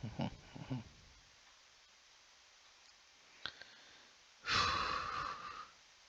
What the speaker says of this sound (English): sorry for the breathing noises